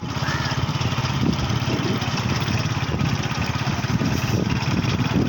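Motorcycle engine running steadily nearby on a village outing, a loud continuous low chugging rumble with rapid regular pulses and no clear change in pace.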